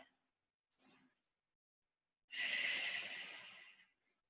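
Soft breathing during a Pilates stretch, a faint short breath followed by a longer, louder airy exhale lasting over a second, close to the microphone with no talking.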